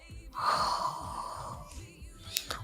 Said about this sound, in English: breathe in, breathe out